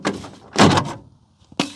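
A black plastic trim piece comes off the sliding door of a Chevrolet Astro or GMC Safari van, producing a few close, hollow plastic knocks and a thud, with short gaps between them.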